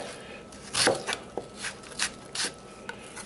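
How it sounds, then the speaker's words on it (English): A knife chops onions on a cutting board, giving several close, crisp cuts spaced unevenly, some with a scraping edge, over quiet kitchen background. "you get like a nice clean chop with onions"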